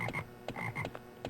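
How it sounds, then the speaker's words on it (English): Frogs croak in the Hellboy: Asylum Seeker video game, a run of several rhythmic, throaty croaks that come quickly in close succession at a moderate volume. "There are frogs."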